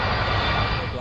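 LOT Polish Airlines Flight 16, carrying 231 people, descends over a city toward an emergency landing without wheels; a steady, broad aircraft engine roar fills the whole second, with voices mixed in.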